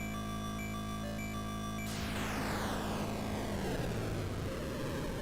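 A jet aircraft engine in a video game roars loud and continuous, an electronic drone that gives way to a rising rush of noise with a falling tone sweeping down through it.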